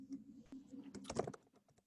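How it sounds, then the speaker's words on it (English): Soft keyboard typing during an English class, a handful of quick light taps clustering together, quiet and close, with a low hum of background talk. "I'm also typing the notes"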